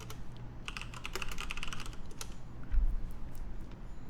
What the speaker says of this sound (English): let me go ahead and type in Forex trading over here